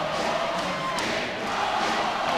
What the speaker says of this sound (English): Bergen is urging on the fans to cheer on the team for the effort they put out tonight